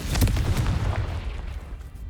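Heavy magical blast spells detonating in the Hogwarts Legacy game, a dense run of low booming explosions that roll together and fade slightly over two seconds, loud and close, with no talking.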